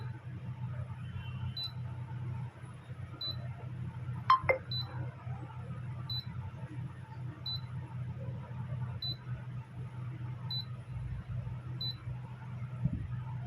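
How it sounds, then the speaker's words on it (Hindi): A Daikin split air conditioner's control board, showing a C9 fault, gives a series of short, evenly spaced electronic beeps over a low steady hum, with a couple of clicks from handling nearby. "तो जहाँ पर लॉन्ग बीप बजेगा वो हमारा एरर होगा।"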